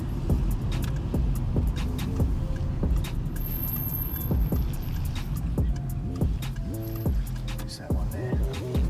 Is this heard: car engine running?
yes